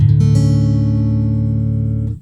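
Guitar in D A D D A C sharp open tuning, strummed once open: one bright chord rings out loud and close, then sustains evenly for about two seconds before it is cut off, with no voices.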